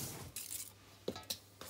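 Sugar, baking powder and a pinch of salt are stirred in a bowl, giving faint scraping followed by a few sharp, quiet clinks of a utensil against the bowl.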